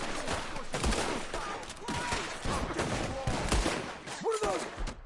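Rapid gunfire breaks out in a Red Dead Redemption 2 shootout, a dense volley of cracks and bursts layered with shouting and game voices throughout.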